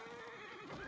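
A horse whinnies loudly in the real-time strategy game Age of Empires IV, a single rising and falling neigh heard up close against no other sound.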